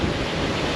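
Strong morning wind on the Nicaraguan coast buffets the microphone in a dense, loud roar, mixed with the wash of nearby surf, steady and unbroken for a brief moment.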